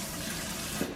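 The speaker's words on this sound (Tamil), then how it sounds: "ஓகே, தண்ணி எல்லா பக்கமும் தெரிக்குது." Tap water gushes from a kitchen faucet and splashes steadily into a sink, a dense continuous hiss that stays loud and close throughout without a break.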